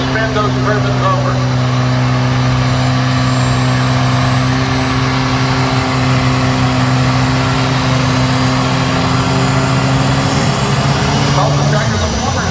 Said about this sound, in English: that's a little Chevrolet engine doing the work right there to spin those turbines over